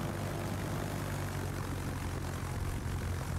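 A steady, dense roar of fighter plane engines from the naval combat game World of Warships fills the scene, a continuous droning rumble with no breaks and no voices.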